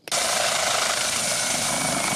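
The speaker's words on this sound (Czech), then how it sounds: "Na místě přistává po 5 minutách vrtulník záchranářů" A rescue helicopter landing at the scene of a fairground ride accident, its loud, continuous rotor roar starting abruptly and staying steady and close throughout.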